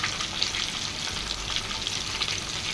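Chicken pieces fry in hot oil for biryani, crackling and sizzling steadily up close with dense popping bursts and no voices.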